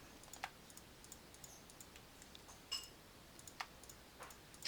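Sparse, faint mouse clicks while editing in Photoshop, a handful of short, dry ticks spaced irregularly over quiet background, with no talking.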